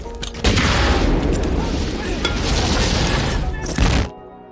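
A thrown rocket explodes in a war film with a big booming blast and crackling debris and gunfire-like bursts that roar continuously for about four seconds before cutting off abruptly.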